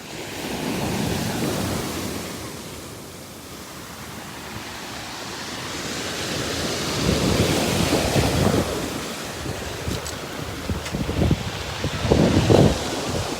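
Ocean waves break on rocks along the shore at Curaçao, a loud rushing surge that swells and recedes, with heavy wind buffeting the microphone and a few close splashes near the end.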